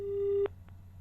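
Telephone busy tone after a call is cut off during a live TV phone-in: a steady single-pitch tone for about half a second that stops abruptly, leaving a faint low hum.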